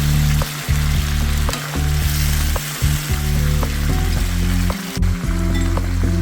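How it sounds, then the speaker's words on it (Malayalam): Loud, close sizzling and bubbling as tamarind water hits a hot frying pan, with a brief clink, a steady cooking hiss throughout; no one speaks. "വാളൻപുളി ഒരു ചെറിയ ഉരുള ഒരു കാൽ ഗ്ലാസ് വെള്ളത്തിൽ നല്ലതുപോലെ പിഴിഞ്ഞ് നമുക്ക് ആ വെള്ളം ഒഴിച്ചു കൊടുക്കാം"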